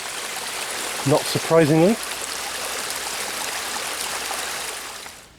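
A small mountain stream rushes steadily close by, a constant broadband wash of flowing water, while a voice briefly speaks over it near the start.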